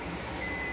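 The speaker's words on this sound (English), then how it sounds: "my timer is fixing to go off for my stovetop pressure canner" Timer on a stovetop pressure canner going off, a brief, steady electronic beep tone, close and fairly loud.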